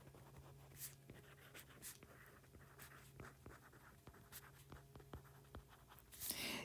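Marker or chalk scratching across a board in short strokes and taps, steady and close, with a low hum behind and no talk.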